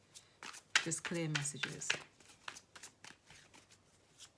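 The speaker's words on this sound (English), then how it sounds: "give me one more shuffle for Gemini, please" Tarot cards being shuffled by hand, a run of rapid riffling flutters and crisp card slaps, close and fairly quiet, while someone speaks briefly over them.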